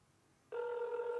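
A telephone starts ringing abruptly after a short quiet pause, its steady electronic tone loud and clear until the clip ends.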